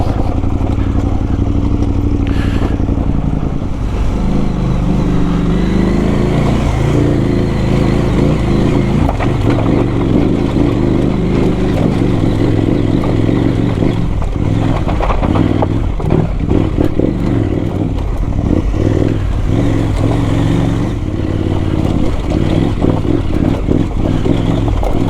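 A KTM adventure motorcycle engine drones steadily on a rough off-road mountain pass, loud and close, with clattering and scraping from rocks and gear throughout and brief revs as the rider picks through the terrain.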